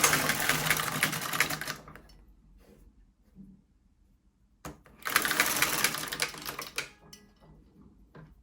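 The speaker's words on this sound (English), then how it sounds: "We are knitting now." An LK150 knitting machine carriage is pushed across a row of selected needles with yellow yarn, making two loud, dense, rattling sweeps, each lasting about two seconds and separated by near silence.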